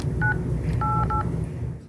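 Three telephone keypad tones dial 988 in Minnesota: a short beep followed by two longer beeps in quick succession, clear and close over a low background hum.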